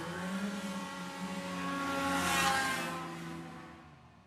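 Racing hovercraft engines at the Gang Warily race meeting, a harmonic engine whine building as a craft draws near, peaking loudly midway, then fading into the distance.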